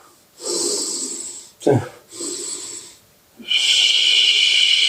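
Controlled breaths during a kung fu exercise come as long hissing exhales and a sharp snort-like inhale, close and fairly loud, with a brief spoken word between them.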